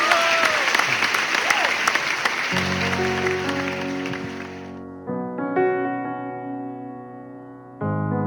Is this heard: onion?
no